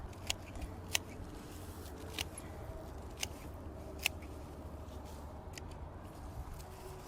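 Scissors snipping off the tops of daylily foliage while dividing a garden clump, a handful of sharp, separate clicks spread over steady outdoor background hiss.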